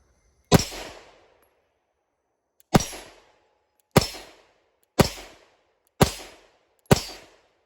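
Six sharp, loud pistol shots from a Glock fitted with a Brownells RMR-cut slide, each a crisp crack with a short decaying tail, the first alone then five more in a quick, fairly even sequence.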